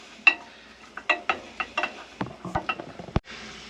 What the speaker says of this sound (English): we're just going to chuck our onion in. Chuck that in by itself and let that just go nice and golden